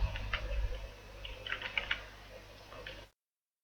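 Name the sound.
typing on computer keyboard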